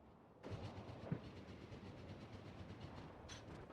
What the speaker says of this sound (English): We're going to hop on the train, and we're going to go right